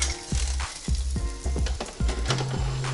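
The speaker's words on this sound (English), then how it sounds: "I'm just gonna flip them so that this other side can get cooked up good for a few minutes." Pork chops sizzling in a Power Air Fryer Oven Elite as they are flipped, steady frying crackle broken by several clanks of a utensil against the tray.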